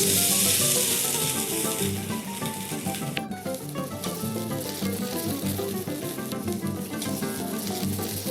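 Japanese kushiyaki skewers grill in oil with a loud, continuous crackling sizzle that stays close and dense throughout, with a short sharp click partway through.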